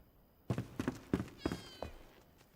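A cat in the survival game Enshrouded meows four or five times in short, separate calls, close and clear, with no talking.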